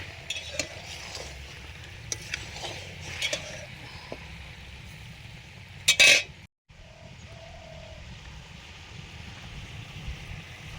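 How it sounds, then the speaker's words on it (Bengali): Hot oil sizzling steadily while cooking outdoors at a family winter picnic with desi chicken curry, beguni and dal, a soft continuous fry with faint stirring and utensil knocks and one brief louder clatter near the middle. "তেলও গরম হয়ে গেছে, আমি একটু গরম তেলও দিয়ে দেবো।"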